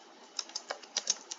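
Code being typed on a computer keyboard, a quick irregular run of light, crisp key clicks close to the microphone, with no talking.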